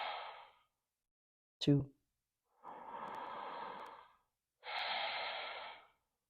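Slow, deep breaths during a yoga flow: a long airy exhale, then two drawn-out, whooshing breaths close to the mic, separated by silence, with a single brief spoken count in between.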